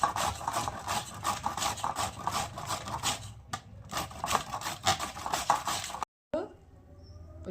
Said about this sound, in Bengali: এই মেশিনটা দিয়ে মূলগুলো কুড়িয়ে নেব।